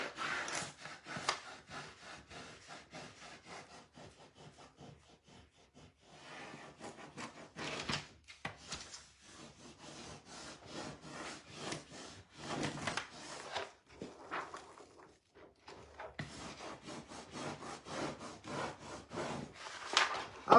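Hand rubbing on wood, a dry scraping repeated in bursts of strokes with short pauses between, close and steady, no talking.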